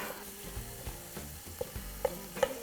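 Spicy sausage sizzles and spits as it fries in a soup pot, a steady crackling hiss broken by sharp pops and the scrape of stirring, close and moderately loud with no voices.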